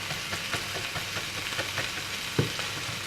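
Minced pork and garlic sizzle steadily in a hot pan, with a continuous crackling fry and occasional scrape and clink of a utensil stirring, close and alone without voices.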